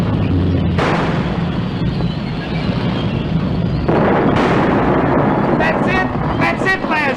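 A tank gun fires high-explosive shells, with a heavy blast near the start and another midway, each followed by rumbling roar. Voices talk over the steady, loud battle noise.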